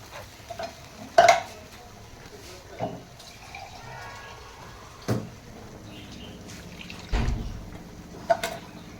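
White sauce pasta with vegetables is stirred in a pan, with irregular scraping and clinking knocks of a utensil against the pan over a faint background hiss.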